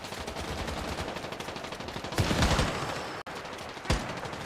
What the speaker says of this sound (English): All I'm hearing is a bunch of shooting.